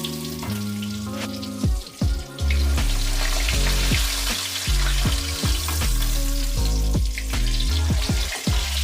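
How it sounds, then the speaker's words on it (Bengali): Hilsa fish pieces frying in oil, a loud steady sizzle broken by low clunks and knocks as the fish is lifted and moved, no talking. "ইলিশ মাছগুলো ভাজা হয়ে গেছে, তুলে নিচ্ছি।"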